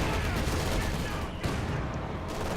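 Dense, continuous gunfire crackles in a Company of Heroes 2 battle between US forces and Wehrmacht assault engineers, with a machine gun and other small arms suppressing troops in a loud, steady barrage that never lets up.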